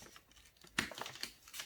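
A parcel being cut open: a sharp slicing tear followed by several soft crinkling, rustling cuts of packaging, fairly faint and close, with no talking.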